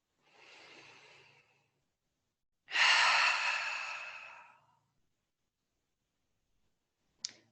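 Deep breathing during a gentle trauma-informed yoga session: a soft, airy breath, a pause, then a louder, longer exhale fading slowly, with a tiny click at the end and no talking.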